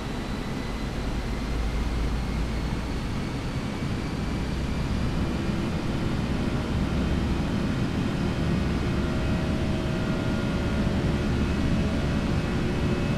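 Steady, even roar of an airliner climbing on auto throttle in the X-Plane 11 flight simulator, a continuous broadband engine drone with a low rumble and no talk.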